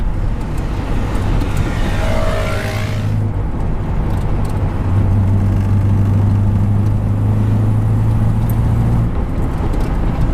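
A 1962 Morris Minor drives along with a loud, steady interior engine drone and road rumble; a whooshing pass sweeps by early, and the engine note rises and holds in the middle stretch.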